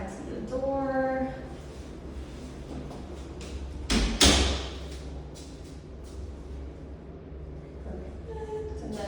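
A bedroom door opened and closed during a move-in rental inspection, giving one brief knock and slide midway, fairly close, while someone speaks before and after.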